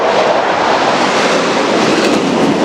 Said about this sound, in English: I think those were 3 Griffin jets